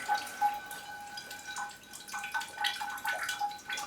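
Water is poured onto a Coelogyne orchid, giving steady, close splashing and dripping with irregular spatters and trickles and no talk.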